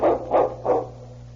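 A sled dog named King barks three times in a steady rhythm, close and loud, with a low hum underneath and no talk.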